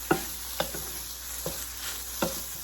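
Meat for tacos dorados, seasoned with a pinch of salt, sizzles gently in a pan while a utensil scrapes and stirs it in several distinct strokes, close and fairly quiet, with no voices.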